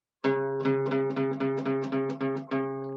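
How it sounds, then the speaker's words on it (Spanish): One note, a C sharp, is plucked repeatedly about eight times at a steady moderate pace, each attack bright and ringing briefly before the next. "El do sostenido suena así."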